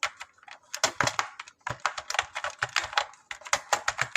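Someone types on a computer keyboard while entering data into an Excel sheet: quick, irregular clusters of crisp keystrokes, close and fairly loud, with short pauses between bursts and no voice.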